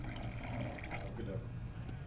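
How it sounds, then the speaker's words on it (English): Liquid poured from one beaker into another during a classroom-style magic trick, a steady watery trickle and splash running continuously under a busy background. "pour this beaker into that beaker"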